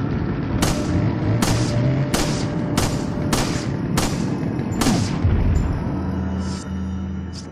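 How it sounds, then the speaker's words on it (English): Seven loud shotgun blasts boom in a steady rhythm during Resident Evil 4 gameplay, each a sharp crack with a decaying tail over constant game ambience, with no speech. "The shotgun."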